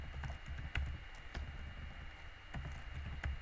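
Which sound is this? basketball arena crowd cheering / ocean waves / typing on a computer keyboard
typing on a computer keyboard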